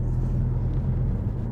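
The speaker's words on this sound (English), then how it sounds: "So the car obviously comes in and cuts the corner" A car sweeps in and cuts a corner on a road where a cyclist is riding, its low engine rumble and road noise steady and fairly close for a moment, with no voices.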